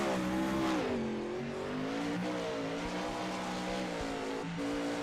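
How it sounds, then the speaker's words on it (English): Open wheel race car, the number 98, on a qualifying run at I-55 in the Hoosier Open Wheel Series: a loud, continuous engine drone that rises and falls in pitch through shifts and corners, close and steady throughout. "We'll take a look here at James' qualifying run here in the 98 car."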